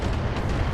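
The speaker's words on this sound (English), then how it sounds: "that was a lucky ammo explosion there" An ammo explosion in the BattleTech mech combat game, a short, dense, rumbling boom that stays loud and broadband for under a second, with no voices over it.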